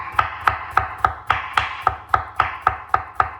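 A kitchen knife chops vegetables on a cutting board in a quick, even rhythm of about a dozen crisp knocks, close and clear with no talking.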